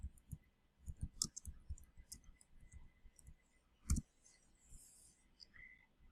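A computer mouse clicks in quiet, close, faint, irregular single taps scattered over several seconds, with one sharper click standing out near the middle.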